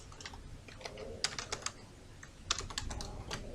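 Keys clatter on a computer keyboard as text is typed into an MS Word box: quiet, irregular bursts of clicks with short pauses between them, close by and with no talking.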